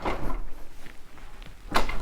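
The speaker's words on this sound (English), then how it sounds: "So I closed the door of the balcony." A balcony door in a newly built Lennar home in Las Vegas swings shut with a single firm knock near the end, after a brief louder rustle at the start and a quiet room in between.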